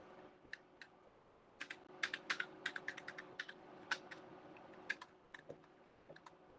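Quick, irregular clicks of fingers typing on a computer keyboard while entering WordArt text in PowerPoint, with short bursts and brief pauses, close and fairly quiet, with no voices.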